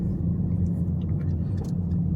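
A car rolls past nearby on a road in Africa, a steady loud low engine rumble filling the whole moment without a clear rise or fade.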